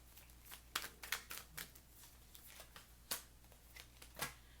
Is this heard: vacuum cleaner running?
no